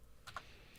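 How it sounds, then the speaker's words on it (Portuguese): Enter key on a computer keyboard, giving a couple of faint, quick plastic clicks close up in a quiet room. "Vamos dar um enter aqui só para eu colocar as propriedades."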